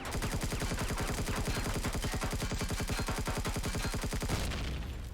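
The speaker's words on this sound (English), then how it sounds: "That was the turret that I thought I destroyed." Turret gunfire in the video game Empyrion Galactic Survival, a loud, rapid, evenly spaced burst of automatic shots lasting several seconds before it abruptly stops.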